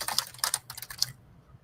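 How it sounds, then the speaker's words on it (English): Fast typing on a computer keyboard: a quick burst of close, crisp keystrokes for about a second, then fading to near quiet. "I'm typing too fast."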